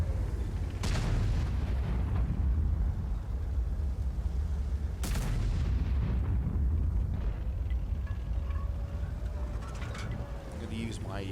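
Tank cannon fire in the video game World of Tanks, with two sharp, loud booms several seconds apart cutting through a constant dense rumble of engine and battle noise.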